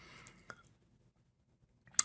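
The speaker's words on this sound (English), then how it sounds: "Let's go ahead and run the application by clicking the start button." A single sharp mouse click on a start button of a Visual Basic application, heard close and crisp near the end after quiet, preceded by faint soft clicks and low breathy noise.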